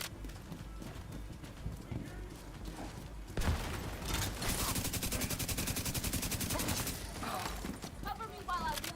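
Heavy automatic gunfire in The Division 2 rattles through a busy combat mix, with a steady stream of shots that grows louder and denser halfway through, under raised voices and game effects.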